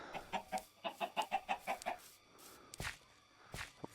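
Chickens in a Minecraft 1.5.2 modpack give a rapid, evenly paced series of about a dozen clucks, close and clear, followed by a few softer thumps and clicks.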